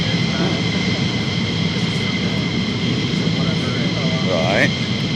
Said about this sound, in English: I think that jet's getting ready